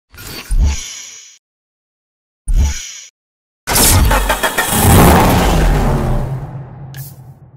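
Dodge Charger engine in Need for Speed Hot Pursuit: two short revving bursts with gaps of silence, then a sustained loud roaring rev that builds and rumbles for several seconds, close and powerful.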